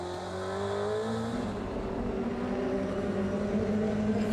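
A DTM race car at the Nurburgring heard from onboard, engine note dropping and shifting down as it brakes into a corner, loud and continuous, with a rising engine tone near the end.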